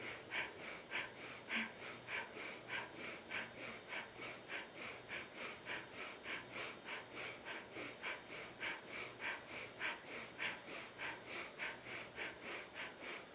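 Rapid rhythmic yogic breath of fire, sharp nasal exhalations pumping at a steady fast pace, close and continuous, with a faint low drone underneath.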